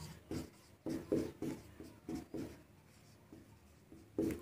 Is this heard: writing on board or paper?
yes